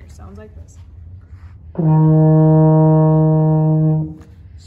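A single sustained E flat played on a baritone horn, held steady for about two seconds with a rich, buzzy brass tone, sounding alone after a brief spoken introduction.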